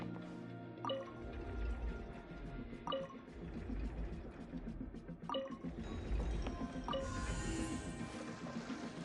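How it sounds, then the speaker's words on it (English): Water rising to fill a chamber in Genshin Impact, a steady liquid wash with a regular series of clear drip-like plinks about every two seconds and a soft rushing layer underneath. "Ooh, the water level's gone way up."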